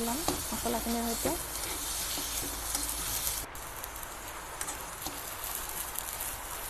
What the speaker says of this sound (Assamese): আলুখিনি ইয়াত ভালদৰে মিহলাই ল'ম মছলাখিনিৰ সৈতে।